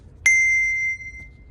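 A single brass handbell struck once on a high C7, giving a bright clear ring that sustains steadily for under a second before being damped, close and alone.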